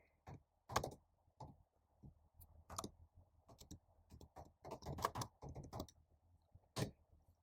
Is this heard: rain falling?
no